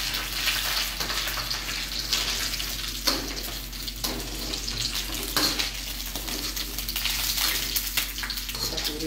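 Tuna pieces frying in oil being lifted and drained, a steady broad crackling sizzle with intermittent stirring and clattering from a utensil, fairly close and continuous without talk.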